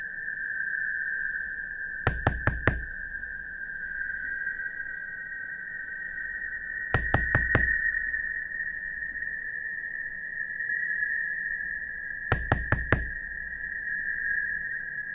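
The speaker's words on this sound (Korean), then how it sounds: "문을 두드리고 있는 누군가의 정체가" Knocking on a door, sounding as three separate bursts of three quick raps spaced several seconds apart, each cutting over a steady high-pitched tone and low background rumble.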